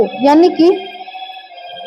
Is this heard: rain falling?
no